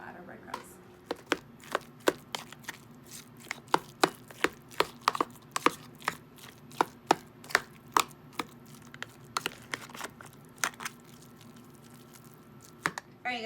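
Rapid knife chopping of onions and garlic for falafel on a cutting board, a long run of sharp close taps in uneven bursts, steady and fairly loud, with faint background hum.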